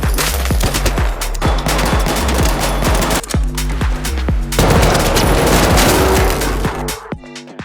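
Rapid bursts of automatic gunfire from guns in the video game Arc Raiders, loud and dense with repeated rhythmic shots and booming reports, briefly dropping out at the end.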